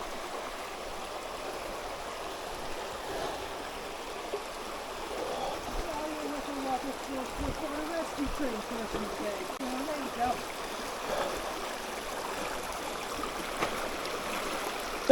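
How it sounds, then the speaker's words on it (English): A hiker wades through a stream crossing on a forest trail in Pisgah, with steady rushing water throughout and occasional soft splashes, while a voice murmurs faintly in the background. "I'll leave it on for the stream crossing."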